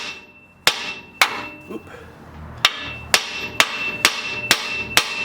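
Hammer strikes tap a front strut free on a 2014–2020 Ford F-150, about eight sharp metallic blows, two early then a steady run of six, close and loud, with a brief exclamation between them.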